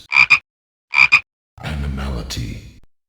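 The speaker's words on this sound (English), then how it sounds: "Ermac as a frog is an interesting one." Ermac's frog animality in Mortal Kombat: two loud double croaks about a second apart, followed by a lower, rumbling gulping burst.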